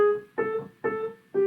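Piano sounding a single G sharp note three times in an even, steady rhythm, each strike clear and close with a short decay before the next.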